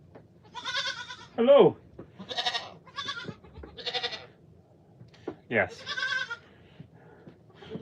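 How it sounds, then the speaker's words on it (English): Pygmy goats bleat in short, wavering calls several times at a homestead, fairly near and moderately loud, with a person briefly speaking between them. "these two are just normal pygmy goats"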